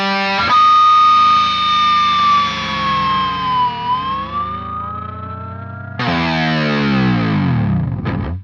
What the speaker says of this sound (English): There's a 4th fret harmonic that I'm hitting on the 2nd string, although it may actually just be feedback.